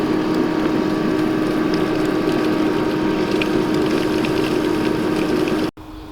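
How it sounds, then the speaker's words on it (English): A pool pump drives a Bestway pool vacuum with a steady, close mechanical hum and a low whir. It runs evenly until it cuts off abruptly near the end, leaving a quieter background. "now that we've got everything hooked up, we can turn our pump on"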